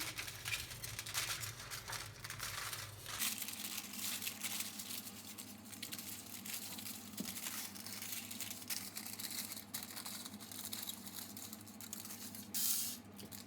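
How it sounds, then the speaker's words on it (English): Scissors cutting out a spiral drawn on paper, a steady run of close, crisp snipping and rustling paper with no talk. "Now I'm going to go ahead and cut this out."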